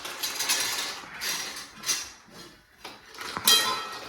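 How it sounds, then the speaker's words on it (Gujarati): Cashews tipped into hot ghee in a pan, heard as several bursts of rattling, clattering pieces and metallic clinks against the pan, close and fairly loud, with short pauses between pours. "હવે આ ઘી ગરમ થઈ જાય પછી આ 250 કાજુ છે, જે નાખી દેવાના બધા."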